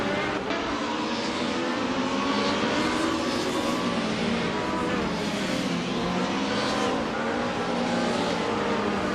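Race cars including a 1996 Opel Calibra DTM roaring in a racing video game, a dense continuous engine drone with shifting revs, loud and steady throughout.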